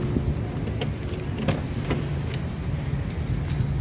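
A Toyota Avanza key with a broken remote jangles close by, a steady light metallic rattle with a few sharper clinks, heard alone without talk.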